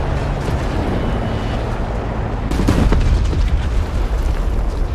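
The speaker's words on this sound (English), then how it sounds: "here come the bombs" Bombs go off in War Thunder with a deep, heavy boom partway through, swelling out of a loud, rumbling battlefield din of tank engine noise and scattered blasts.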